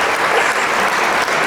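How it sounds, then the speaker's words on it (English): Audience applause from a live show, picked up through a headset: dense, steady clapping that fills the whole moment with no voices over it. "that was the audience through my headset. Oh, all right. Yeah, they were clapping for you"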